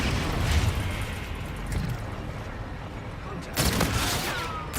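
Gunfire in Call of Duty: Infinite Warfare, loud rapid bursts and booms from an off-meta weapon over a dense battle din, with a sharp burst near the end.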